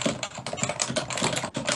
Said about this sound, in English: I can't keep going because his typing is so loud.